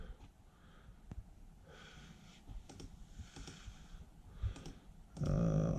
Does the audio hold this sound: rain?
no